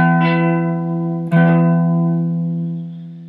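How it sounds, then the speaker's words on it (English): A distorted electric guitar power chord played on the 7th fret of the A string rings out loud and sustained, is briefly re-struck partway through, then decays slowly, heard alone. "play the next power chord. It's the exact same power chord"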